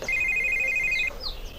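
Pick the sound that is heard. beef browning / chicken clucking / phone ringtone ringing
phone ringtone ringing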